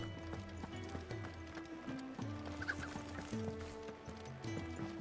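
A chicken, a small fake cockatrice in the Final Fantasy XVI video game, clucks briefly and softly over steady game music with a clip-clopping rhythm.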